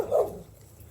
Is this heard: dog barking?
yes